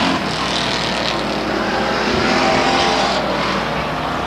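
Race cars on the Stockton 99 Speedway oval, a loud continuous roar of engines with a broad, washing rush of noise as the pack runs close by.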